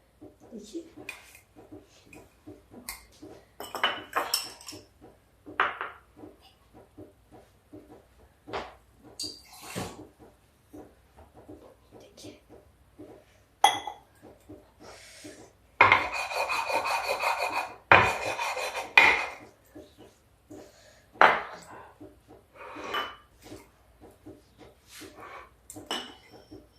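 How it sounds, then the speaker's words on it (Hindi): Mint leaves being ground on a stone or plate, irregular rasping and scraping strokes with louder gritty bursts midway, close by, with a voice talking over parts of it. "देखिए पुदीना पिस गया है"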